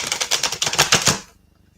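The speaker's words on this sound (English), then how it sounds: "as I'm shuffling the cards to add extra energy" Tarot cards are shuffled in a rapid, crisp riffle of about a dozen close clicking slaps that stop abruptly, leaving near silence.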